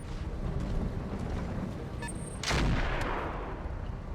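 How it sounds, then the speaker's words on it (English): Mech weapons in BattleTech, a Kit Fox firing across the map at an Adder: one heavy blast bursts out over a steady, dense rumbling battle din, with a few fainter pops around it. "Kit Fox shooting across the map of the Adder"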